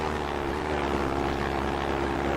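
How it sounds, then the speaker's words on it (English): Steady propeller-driven aeroplane drone in a battle royale video game, a constant loud hum with a low engine throb running unbroken throughout, no voices. "we're in an aeroplane"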